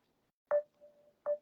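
A WhatsApp call ringing out on a phone, two short electronic tones about three quarters of a second apart, fairly quiet in an otherwise silent room.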